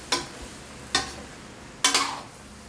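A spoon stirs ginataang kalabasa at sitaw, a squash and string bean stew, in a pot: three separate scraping strokes, spaced about a second apart, close and moderately loud with no talking.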